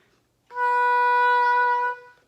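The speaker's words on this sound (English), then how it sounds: "So we're gonna play one finger here, that's called B, okay?" An oboe sounds the note B, fingered with one finger, as one steady, reedy tone held for about a second and a half, close and clear with no other sounds.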